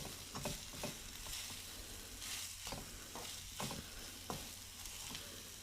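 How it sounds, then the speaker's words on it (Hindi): Spices roasting in a pan with diced raw potato snack ingredients, a faint low sizzle broken by repeated light clinks and scrapes of stirring at a steady pace, no voices. "बहुत ही प्यारी सी खुशबू आ रही है मसालों को भुनने की और सारी चीज़ें अच्छे से मिक्स हो गई हैं।"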